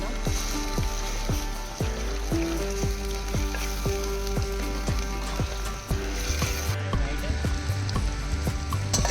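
Goat meat with sorrel leaves is stirred in a clay pot over a fire: a steady sizzle runs under a quick, regular series of scraping strokes, close and fairly loud.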